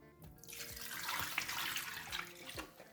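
Hot water from boiled spaghetti pours out as the pot is drained into a kitchen sink, a steady close splashing rush that builds for a few seconds and then tapers.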